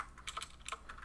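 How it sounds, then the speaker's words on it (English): Quick, faint clicks of a mechanical keyboard being typed on, a short burst of about half a dozen keystrokes in a quiet room. "Mechanical keyboard struggles."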